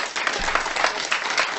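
A comedy radio studio crowd applauds steadily and loudly for the whole moment, a dense wash of clapping with no break.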